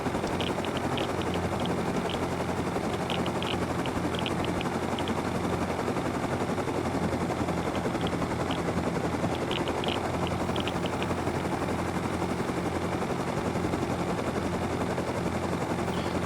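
A helicopter lifts off in the survival game Rust, its rotor and engine roar steady, loud and continuous throughout, with faint rapid clicking bursts mixed in and no talking.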